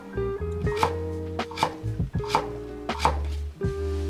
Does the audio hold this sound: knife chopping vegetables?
yes